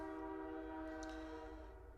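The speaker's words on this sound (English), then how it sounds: "Plus, you hear a train going by." A train rolls past with a steady, sustained tonal hum and low rumble, fairly faint and distant, with a short brighter squeal partway through.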